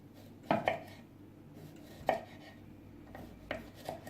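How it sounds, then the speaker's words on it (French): Cucumbers with the skin left on being cut with a knife on a board, a few separate sharp knocks spaced apart, fairly close and quiet, no talk. "Je coupe mes concombres."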